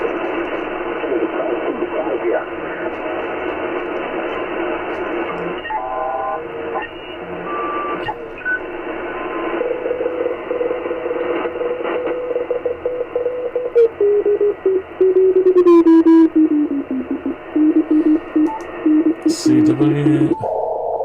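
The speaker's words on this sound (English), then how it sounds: "There's always some Morse code going on, isn't there? Let's have a look for some Morse code." Morse code (CW) tones received on an HF amateur radio band, a steady hiss of band noise with faint keyed tones drifting through, a stronger tone near the end as tuning sweeps across signals.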